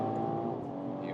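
BMW Alpina B3 GT accelerating hard on a loose, non-racing surface, a steady loud engine drone with strong harmonics held throughout the short stretch, heard from inside the car.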